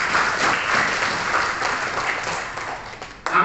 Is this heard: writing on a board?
no